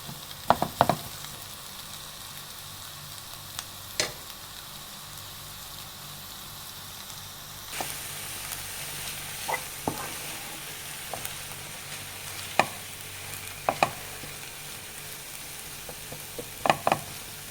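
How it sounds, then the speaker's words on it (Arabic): Onions, greens and shrimp for a shrimp stew sizzle softly in a pan, with a faint steady frying hiss broken by scattered scrapes and knocks as the mixture is stirred now and then. "شوية أحركه وبعدين أغطيه وأخليه على البخار يستوي."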